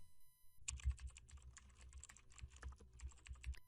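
A web address is typed on a computer keyboard in a steady run of close, soft key clicks with no voices.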